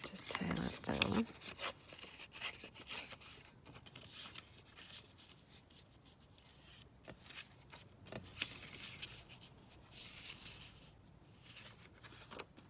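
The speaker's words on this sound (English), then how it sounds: "So let's just tear that down." Book pages being torn by hand for a junk journal, a series of rough papery rips and rustles, close, mixed with a person talking quietly.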